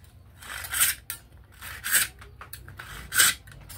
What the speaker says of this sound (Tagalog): tingnan nyo nga ang naglalagari